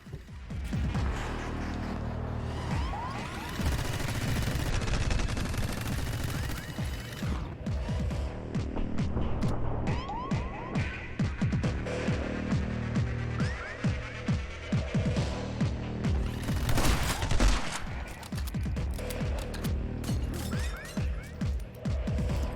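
Video game gunfire crackles in dense, rapid volleys with crashes and impacts, continuous and loud throughout, mixed with game effects and occasional faint voice.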